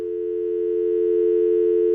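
A steady electronic telephone tone hums alone at one unbroken pitch for about two seconds, clear and close.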